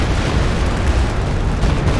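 Dense, continuous rumbling blasts of rocket explosions in Company of Heroes 2, loud and unbroken with no clear gaps between impacts.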